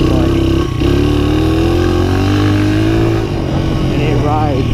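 A Honda XR100R dirt bike's small engine runs loud and close. It makes a steady buzzing drone with a few rises and falls in pitch, and a voice talks over it.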